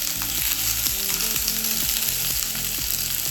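Sliced zucchini frying in a pan alongside potatoes, a steady close sizzle and crackle of oil throughout, with a rhythmic repeating low patter in the background and no talking.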